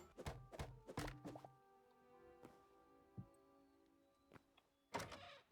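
Tall windows in a modded Hytale game opening, a few quick clunky knocks and thunks in close succession, then sparse faint taps and another short clatter at the end, with near silence between.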